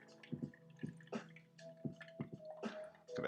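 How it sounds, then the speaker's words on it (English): Tea poured through a strainer into a pitcher, heard as soft intermittent drips and splashes close by, with no one talking over it. "Got the tea pouring in."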